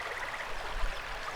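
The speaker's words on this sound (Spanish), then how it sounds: "Se oía el sonido de una cascada próxima" A nearby waterfall pours in a steady, close, hissing rush of falling water, continuous and unbroken.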